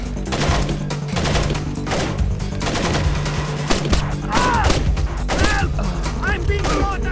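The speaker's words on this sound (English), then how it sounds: "I'm being shot at" Gunfire rattles in Tom Clancy's Splinter Cell, with loud bursts of rapid shots and thuds repeating close by over a few seconds, mixed with other game noises.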